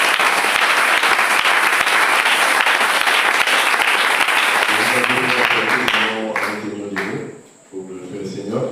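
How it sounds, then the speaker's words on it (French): A church congregation applauds and cheers in praise, loud dense clapping filling the space for about six seconds before fading, with a voice and music-like tones emerging underneath as the applause dies down. "Est-ce qu'on peut acclamer pour le Seigneur Jésus-Christ?"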